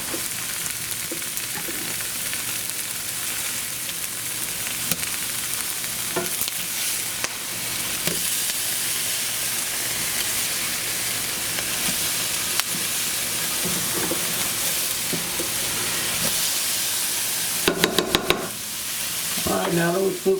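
Burgers sizzle steadily in a frying pan, a loud continuous hiss of frying fat. Spatula scrapes and clatters come through as they are flipped, with a burst of metallic clinks near the end.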